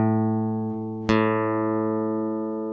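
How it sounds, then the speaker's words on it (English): A guitar's low E string, fretted at the 5th fret, rings as one sustained note, and a second plucked string joins about a second in, both decaying slowly, close and clear. "If we were to go to the 5th fret on the big E string or the 6th string and press it down and play it"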